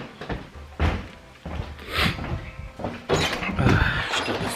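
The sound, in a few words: door slamming shut in a draught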